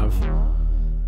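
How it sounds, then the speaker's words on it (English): Thick E minor synth bass, one deep sustained note with a bright filtered attack that quickly closes to a heavy, rumbling tone, loud and alone. "And then this is the bass line I have."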